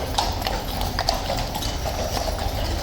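Horse hooves clip-clopping in a steady, continuous rhythm at an Elizabeth Cup horse race event, moderately loud over a dull background rumble with no voices.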